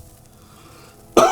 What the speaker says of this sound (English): I coughed and then she coughed.